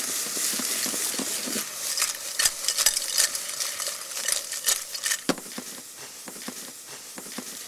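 Clams with squeezed lemon tossed into a hot pan and stirred, giving a run of close metallic scraping and clattering strokes over a soft sizzle, with sharper knocks scattered throughout.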